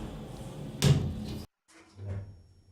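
Elevator doors sliding shut in a skyscraper, ending in a sharp thud followed by a brief silence and then a low mechanical rumble, heard up close.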